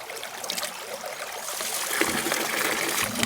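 Water pours and rinses a gold sluice mat into a bucket outdoors, a steady close splashing trickle that grows slightly louder, with no talking over it.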